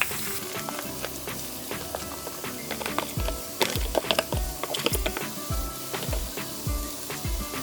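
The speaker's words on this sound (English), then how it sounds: "add a little more ghee if you wish, and then put in your cauliflower" Cauliflower added to a skillet of hot ghee and onions sizzles steadily, with irregular clacks and scrapes of stirring close by.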